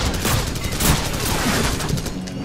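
Dense, continuous gunfire from Call of Duty 4: Modern Warfare rattles loudly and without pause, rapid overlapping shots forming a heavy wall of battle noise.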